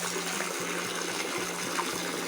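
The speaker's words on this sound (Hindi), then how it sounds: "भाभी धो रहे कपड़े।" Clothes are washed by hand with water in a village, giving a steady splashing and trickling with repeated soft rhythmic sloshes about every quarter second, close and continuous.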